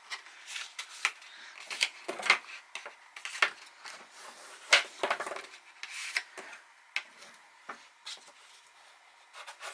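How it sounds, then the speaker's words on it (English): Scored paper being folded along its lines by hand: a run of close, crisp crinkles, creases and rubbing swipes in irregular bursts, quiet and alone. "then you're going to fold on these 2 lines that you"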